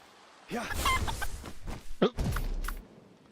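A video game chicken clucks in short bursts, fairly close, alongside footsteps and other game effects.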